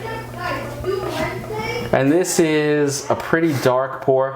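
Young children's voices chatter faintly in the background of a home tasting of Goose Island Bourbon County Stout Double Barrel Toasted, under steady close adult talk.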